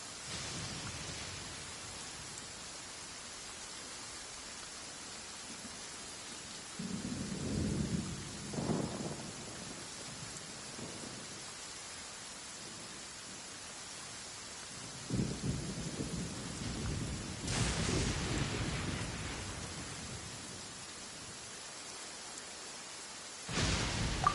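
Thunder and rain from the game Genshin Impact: steady rainfall hiss throughout, with low rolling thunder rumbles swelling at intervals and a couple of sharper cracks, fairly quiet overall.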